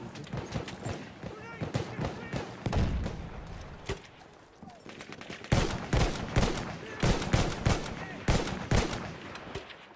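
Covering fire crackles through a Battlefield 1 match, bursts of rifle and machine-gun shots rattling in uneven clusters, loud and near, mixed with other battle noise while people talk over it.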